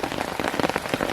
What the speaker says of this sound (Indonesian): air hujan seperti ini nih langsung turun ke bawah teman-teman